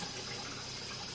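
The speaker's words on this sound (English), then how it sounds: "You're going to rinse them in cold water until the water coming out of your bowl is good and clear." Ramen noodles rinsed in a bowl under a cold running tap, a steady close gush of water pouring without pause for about a second.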